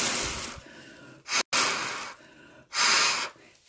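A voice imitates a fire-breathing dragon at a children's live fairy-tale singalong, giving long loud breathy roaring exhalations in separate bursts with short silences between them.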